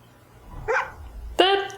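A dog in the film Man of Steel gives a short whine and then a sharp close bark, with film sound underneath.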